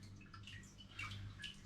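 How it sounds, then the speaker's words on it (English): Home-brewed raspberry and lemon cider dripping slowly through a filter clogging with trub, faint irregular wet drips and small trickles over a low steady hum, close by. "the filter is beginning to fill up with trub, and that's still dripping through nicely just there"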